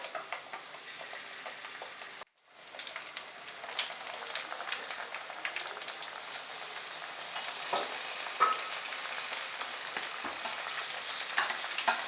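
Prawn cutlets fry in hot oil in a kadai over medium heat, giving a steady, close sizzle and crackle with scattered pops that runs unbroken except for one brief dropout.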